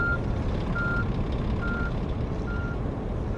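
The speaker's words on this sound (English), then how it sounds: "that audible tone gets louder around the back" Reversing beeps from a truck in On The Road Truck Sim, four evenly spaced steady tones over a loud, constant engine rumble, with no talking.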